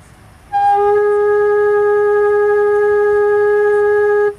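A Native American flute holds a single clear G sharp for about four seconds, a steady, pure, close-up tone with a slight wobble, sounding alone.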